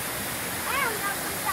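Andlau double waterfall pouring in a cool outdoor setting, a steady broadband rush of falling water throughout, with a brief whistle-like tone rising over it partway through.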